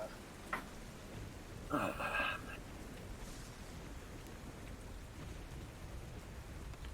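Rain and storm ambience in a tabletop role-playing game makes a steady hiss of falling rain with a brief rumbling burst of thunder near the start, fainter in the background.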